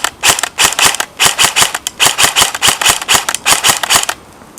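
A KWA M4A1 airsoft rifle, on a stock 8.4-volt battery and stock motor, fires in semi-auto: about twenty sharp, evenly spaced close-up snaps in a quick steady rhythm, each with a short mechanical whir.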